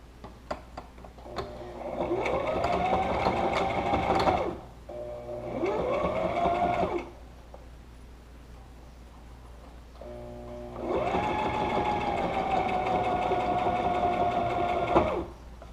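Sewing machine stitching a DIY face mask, running in three bursts of steady, rapid mechanical whirring with short pauses between, close and fairly loud with no talking.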